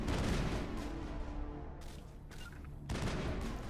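Sustained bursts of gunfire from a Mass Effect firefight crackle in the background, a dense rattle of shots with brief pauses, moderately distant and fairly quiet.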